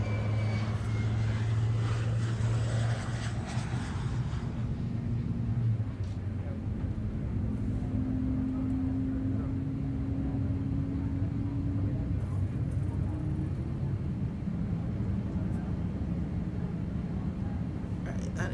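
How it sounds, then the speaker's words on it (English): An Airbus A350 engine spooling up in Microsoft Flight Simulator: a steady low rumble and whine that holds at moderate level, with a rising tonal hum partway through and no speech. "Alright, that engine is starting up."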